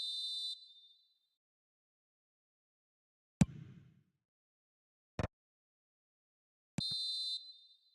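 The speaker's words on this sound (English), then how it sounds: "And the whistle's gone, presumably for offside" A referee's whistle sounds in the video game eFootball, with short shrill blasts at the start and near the end, separated by a few sharp clicks and near silence.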